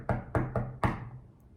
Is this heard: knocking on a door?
yes